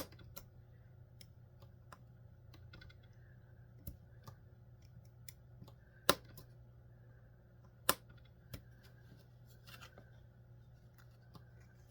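Small scissors cutting pieces for a Cute Room miniature magic house kit, a scatter of faint, sharp snips and clicks at irregular intervals against a low steady hum, with two louder snaps.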